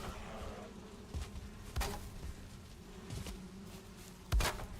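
Bees buzz around a beehive in the video game Valheim, a steady insect hum with a few soft thuds and footsteps scattered through it, moderately close and without speech.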